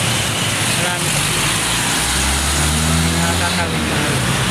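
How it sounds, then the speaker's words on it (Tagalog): Cars and trucks passing along a busy road, a steady loud roar of traffic with engines rising and droning close by, continuous throughout. "Daanin muna natin yung mga sasakyan kasi marami."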